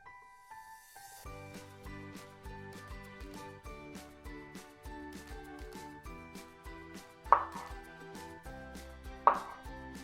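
Pineapple chopped into small pieces with a knife on a board, a steady run of crisp, close knocks, with two sharper, louder strikes near the end and no talk.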